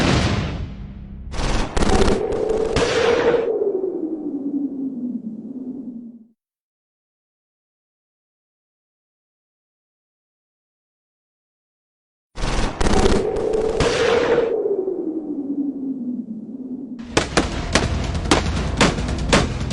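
Bursts of machine gun fire, loud and close, in sustained rapid rattling volleys with a long silent gap between them and a later run of sharper separate shots, with no talk.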